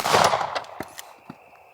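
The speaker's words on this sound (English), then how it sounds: "So it's going to sound like what you would expect an unsuppressed 9mm to sound like." Unsuppressed 9mm pistol fire using 124 grain Staccato range ammunition, a loud close opening blast followed by a few sharp separate shots ringing out over a decaying echo, with no one talking.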